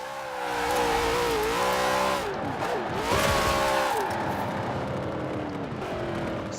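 Car in the Forza Horizon 4 racing game spinning around, its engine revving loudly with wavering pitch and a broad hiss of tire squeal through the turn, continuous and close.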